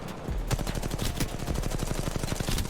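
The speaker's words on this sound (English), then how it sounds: "I made sure that I was just shooting at that Gibby" Rapid automatic gunfire in Apex Legends Mobile, a dense steady burst of shots running through the whole stretch, loud and close with no talk.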